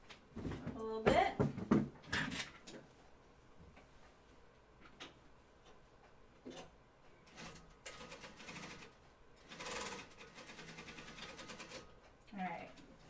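A sewing machine stitches a short seam on a Blanca flight suit in brief ticking bursts, mixed with handling clatter and a voice talking between runs.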